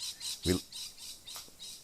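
A lorikeet gives a few harsh, shrill squawks, one louder burst and a couple of fainter calls, heard faintly outdoors near Coolangatta airport in Australia.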